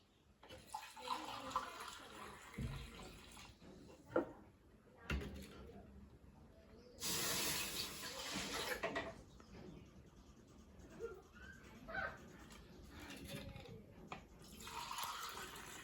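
Water pours into a pan for making kesari in bursts of splashing and trickling between quieter gaps, with people talking at low level in between.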